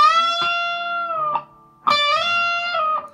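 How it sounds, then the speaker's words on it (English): An electric guitar plays a half-tone bend on the 15th fret of the second string, two sustained bent notes with a brief pause between them, clean and close. "So a half bend will be sound like this."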